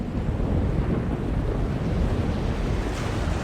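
Storm front rolling in within The Longest Journey game world: a continuous, loud roar of wind with a surf-like rush, steady throughout with no distinct thunderclap.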